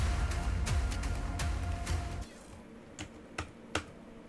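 A computer keyboard clatters with a burst of fast keystrokes under a game's background sound, then a few slower isolated taps in near quiet.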